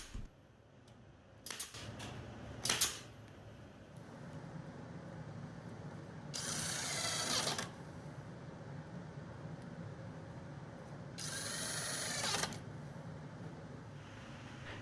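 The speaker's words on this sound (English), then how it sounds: "I'm going to screw this entire thing together to really strengthen everything up" Screws being driven into a wooden bucket planter frame, two whirring power-driver bursts of about a second each, preceded by a couple of sharp knocks and clacks over a faint room hum.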